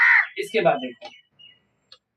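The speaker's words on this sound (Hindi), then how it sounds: "देखो कौवा बोल रहा है" A crow caws in the background, a few short, fairly faint calls that overlap and follow someone speaking Hindi while teaching a class 8 maths lesson.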